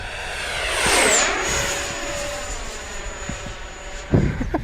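An XFly Sirius 80mm RC jet airplane roars past at close range, its ducted-fan whine swelling loud, then sliding down in pitch and fading into a thin, distant whistle.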